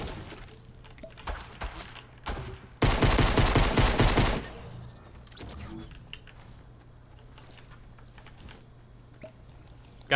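Gunfire in a video game, a burst of rapid, loud shots lasting over a second amid quieter clicks and mechanical handling sounds.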